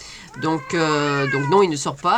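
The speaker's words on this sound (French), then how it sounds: "Alors pour les gens qui entendent mon chat" A blind fifteen-year-old pet cat meows loudly and long in an apartment, with a drawn-out plaintive call followed by shorter cries, while someone talks close by.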